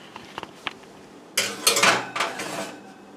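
Metal pan of hardtack slid back into an oven set to 350 degrees: a few small clinks, then a louder burst of metallic scraping and rattling as the pan goes in, close by.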